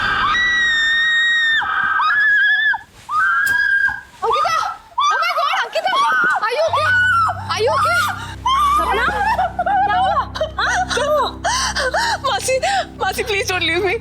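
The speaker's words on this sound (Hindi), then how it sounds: "क्यों चिल्लाई तुम?" A girl screams in fright in a horror show scene, a long high shriek at the start followed by gasping, whimpering cries while a low droning music bed swells underneath.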